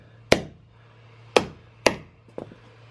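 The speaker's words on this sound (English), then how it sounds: "I will do a bit of a torture test with my cube and my rusty hammer." A rusty hammer strikes a 3D-printed cube resting on carpet in sharp, dull thuds: three solid hits spaced unevenly, then a lighter double tap, each decaying quickly.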